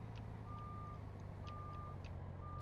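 A truck in Farming Simulator 19 backs up, its reversing alarm sounding as evenly spaced steady beeps over a constant low engine drone, no voices present.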